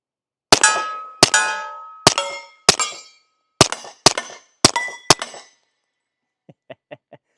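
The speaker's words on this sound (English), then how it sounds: "Once again today we'll be shooting the Sig Sauer 1911 Series X." Sig Sauer 1911 Series X pistol fired outdoors, eight sharp loud shots in an uneven steady string, each ringing briefly, followed after a pause by three faint metallic pings.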